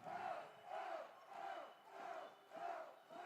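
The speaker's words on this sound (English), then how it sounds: "This is one of the rowdiest crowds I think we've ever seen." A rowdy crowd of college hockey fans at the Plex, at a Gamecocks versus Alabama game, chants in a rhythmic, swelling pattern of repeated shouted cries, somewhat distant and rising and falling about every half second.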